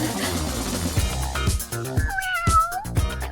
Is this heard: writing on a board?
no